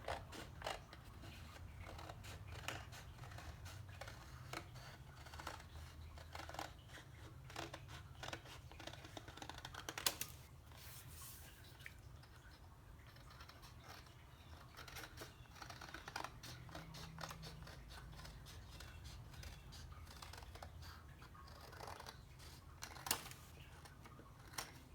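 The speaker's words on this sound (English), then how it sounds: "we're cutting 3 sheets at a time" Scissors cutting through three stacked paper sheets for a giant paper flower: a steady stream of small crisp snips and crunches, close and quiet, with no talking.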